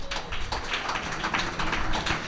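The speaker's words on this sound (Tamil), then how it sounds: "கையை தட்டுங்க." A crowd of listeners at a Tamil church sermon clapping their hands together, a dense, steady patter of many claps at fairly even loudness, with no voices over it.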